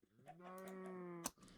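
Minecraft cows in a video game, a single sustained, strongly harmonic moo lasting over a second, close and clear, ending in a brief noisy burst.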